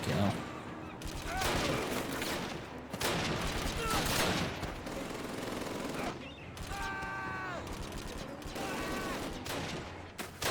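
Repeated bursts of gunfire in the World War II shooter Call of Duty: United Offensive, loud and dense, with overlapping volleys and automatic fire that pause briefly between heavy stretches.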